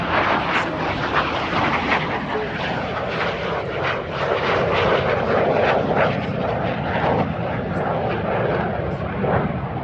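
A Cessna A-37 Dragonfly light attack jet roars past at high speed, a loud, steady broadband engine rush that fills the whole stretch without letup.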